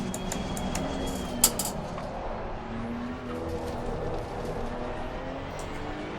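GT2 race car driven in Assetto Corsa Competizione, a continuous engine roar with shifting revs and a brief sharp transient early on, heard alone without talk.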